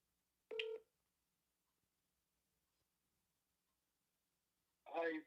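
Telephone dialing tones sound twice as someone places a call, a short burst of keypad beeps, then quiet, then another quick cluster of tones near the end.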